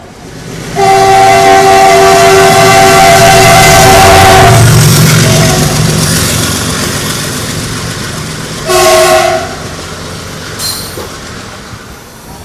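The Darjeeling Mail runs through Kishanganj station beside platform 2, its loud horn blaring for several seconds, then a heavy rolling rumble of wheels and carriages, a second shorter horn blast and a fading squeal.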